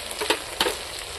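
Mutton fries in a pan with ginger, garlic and onion paste, giving a steady close sizzle broken by two brief scraping stirs.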